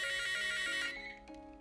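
An electronic telephone ringtone chirps steadily for about a second, then cuts off into fainter tonal fragments as a new handset with bigger numbers is answered.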